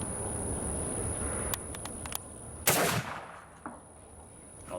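A single loud shot from a .44 Colt Dragoon revolver loaded with 55 grains of 3F GOEX black powder, a sharp close blast with a brief rumbling tail, preceded by a few light clicks and followed by a high steady ringing tone.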